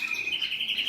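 A single Gouldian finch, a female kept separated and recovering from illness, chirps in a steady, thin, high twittering that runs without pause for about a second, close and fairly clear.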